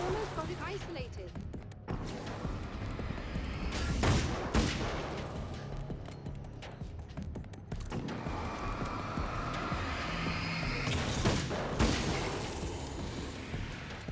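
Gunfire in the video game Alan Wake's American Nightmare: a few sharp shots burst out amid dense, noisy game ambience, with a voice speaking over parts of the scene.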